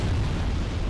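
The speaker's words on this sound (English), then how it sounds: "There's another stupid bomb trap. Come on, there it goes." A bomb trap in the video game Demon's Souls explodes with a loud, close, rumbling boom that fills the whole moment, heavy low-end blast with no one speaking.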